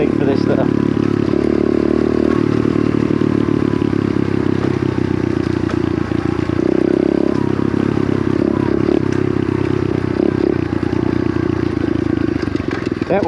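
A small pit bike engine revs hard while being ridden in second gear, a loud, buzzing, rising and falling drone with clattering and scraping close by and a voice talking over it.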